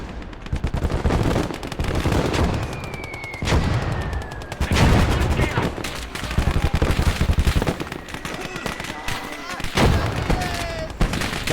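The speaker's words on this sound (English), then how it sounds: "There's a machine gun out there." Machine gun fire rattles in long, rapid bursts across a battlefield, loud and sustained with dense repeated cracks, broken by brief pauses and overlapping distant gunshots.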